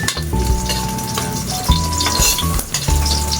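Onion and garlic fry in a hot pan, a continuous close sizzle broken by spatula stirring and clinks against the metal pan, with no voices.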